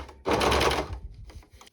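An overlocker stitching a seam on jersey knit fabric, a loud fast whirring burst of just over half a second that slows and tapers into softer intermittent mechanical clicks.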